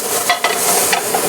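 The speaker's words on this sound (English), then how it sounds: "So we're just going to toss this." Gnocchi and sun-dried tomatoes are tossed in a sauté pan over medium heat. Loud sizzling frying mixes with scraping and shuffling as the food shifts in the pan.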